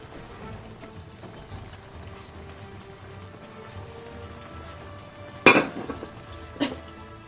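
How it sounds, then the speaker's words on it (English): Carrots tipped into a hot cooking pan give a sudden loud clatter and sizzle burst, then a second shorter splash, over a low steady background of frying. "So I'm just going to add the carrots now."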